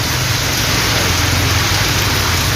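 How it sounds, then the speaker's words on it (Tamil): Heavy rain pours steadily in Tiruvarur district, a dense, loud, unbroken hiss of downpour striking surfaces, constant throughout with no pauses and no speech. "திருவாரூர் மாவட்டத்தில் 2வது நாளாக கனமழை பெய்தது."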